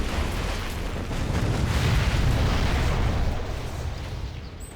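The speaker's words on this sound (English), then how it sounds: "Does explode, but doesn't actually kill the building." A demo bike blows up against a bunker in a competitive strategy video game, a broad rumbling blast that swells and holds for several seconds before tapering off, loud and dense.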